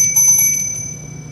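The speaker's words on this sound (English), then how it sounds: "So I like to ring a bell in all the corners of the rooms to be cleansed" A small hand bell once owned by a mother, rung for cleansing a room's corners, gives a single bright ring that sustains as a clear sustained tone and slowly fades.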